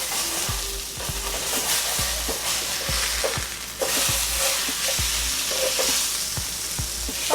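Curry salmon sizzles in a hot skillet after a final flip, a steady close frying hiss with occasional soft pops and utensil taps, alone with no talk.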